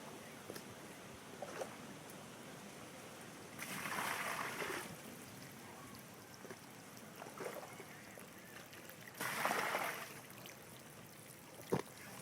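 Water is poured and splashed over a small freshly caught carp beside an Italian fishing spot, coming in two soft bursts of trickling and splashing against a quiet outdoor background, with a sharp click near the end.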